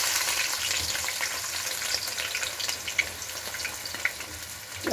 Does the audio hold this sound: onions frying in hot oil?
yes